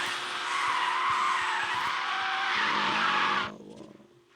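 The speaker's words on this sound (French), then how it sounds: "j'ai compris comment fallait drifter" Car drifting in the Need for Speed video game, a loud sustained tire skid screech with engine noise for about three and a half seconds, then cutting off abruptly into a fading tail.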